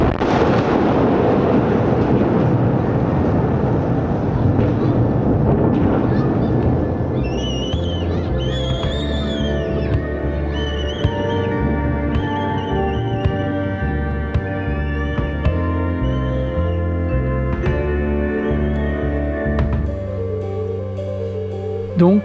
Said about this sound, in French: éclate un orage